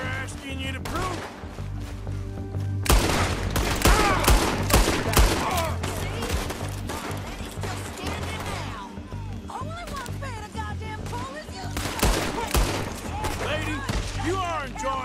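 Gunfire in Red Dead Redemption 2: repeated sharp shots and rapid volleys crack through a busy, loud mix while voices talk over and between the bursts.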